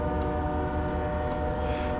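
Horn of an ES44AC diesel locomotive sounding at a grade crossing in a train simulator game, a loud steady multi-tone blast held throughout over the low rumble of the engine.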